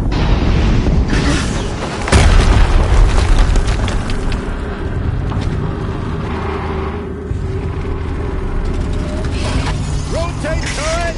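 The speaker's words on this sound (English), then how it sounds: "Another explosion." Explosions rumble through a chaotic battle in the video game Horizon, with a loud boom near the start and mechanical clanking and ratcheting going on throughout, dense and close.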